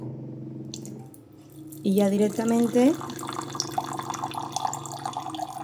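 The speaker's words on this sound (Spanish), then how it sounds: "Ahora os voy a enseñar con agua caliente para que veáis cómo sale." Hot water at about 100 degrees runs steadily from a home tap, a continuous broadband rush beneath a woman's speech, with a brief sung or voiced tone partway through.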